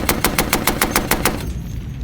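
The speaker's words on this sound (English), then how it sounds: "you'll get acquainted with an indispensable tool of the 1920s, the Tommy gun" A 1920s Tommy gun submachine gun fires a rapid, even burst of about ten loud, close shots, then stops with a short ringing tail.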